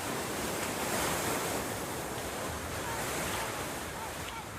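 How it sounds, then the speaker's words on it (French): Sea waves surge and wash over the Bon-Secours tidal pool in Saint-Malo as the tide rises, a steady, loud roar of surf with wind noise buffeting the microphone throughout. "Quand la mer monte et que les vagues reprennent possession du bassin"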